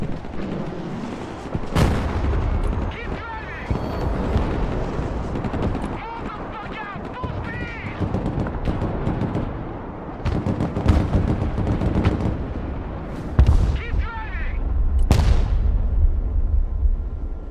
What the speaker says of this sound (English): Rocket artillery at your disposal, sir.